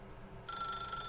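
A telephone in the video game The Stanley Parable starts ringing abruptly partway through, a bright trilling electronic bell over a low background hum.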